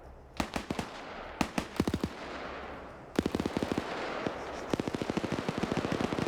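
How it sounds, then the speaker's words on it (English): Machine gun fire in a PvP video game match, sharp rapid bursts of shots in clusters, loud and close, with short gaps between volleys and no talk. "Machine gun opens up"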